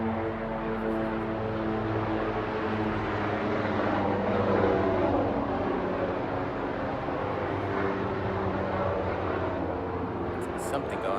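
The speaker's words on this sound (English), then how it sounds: "I'll wait for the plane to fly away" A fixed-wing airplane passes overhead, a broad steady engine roar that swells slightly midway and holds for the whole stretch, with faint voices beneath it.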